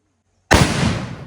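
A firecracker bomb thrown to scare off elephants in Sri Lanka goes off with one sudden loud bang after near silence, followed by a rumbling, slowly fading tail.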